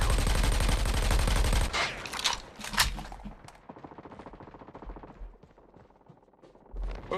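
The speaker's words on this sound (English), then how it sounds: "Oh, a sentry gun." Sustained automatic fire from a sentry gun in Call of Duty Mobile, a dense, loud rattle of rapid shots that cuts off, followed by scattered bursts and other game sounds at lower level.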